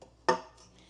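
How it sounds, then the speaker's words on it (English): Asparagus spears dropped into a pan while cooking a steak dinner give one sharp clatter of metal and stalks, followed by a faint rustle, close and alone. "And then I have this asparagus, and I was just gonna put some of those in a pan."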